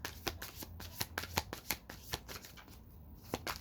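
Tarot cards are shuffled by hand in a quiet room, a steady run of soft riffling slaps and flicks at an irregular rhythm, close and alone.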